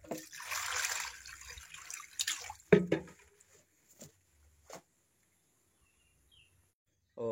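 Running water as herbs are rinsed before boiling, a splashing wash in the first seconds, then quiet with a few brief clatters and drips.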